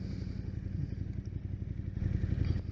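A naked motorcycle, a Tuono V4 1100 or 1290 Super Duke, rides down the road with a steady, rumbling engine and wind noise, loud and close, the throttle swelling slightly near the end.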